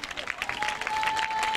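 Church congregation applauding the Lord for a miracle, a short burst of dense, steady clapping from a crowd, fairly loud, with a voice under the claps.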